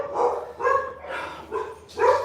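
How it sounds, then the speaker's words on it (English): Dogs barking, five medium-pitched barks spaced about half a second apart in a steady rhythm, moderately loud and somewhat distant, with no talking. "There's the dogs barking"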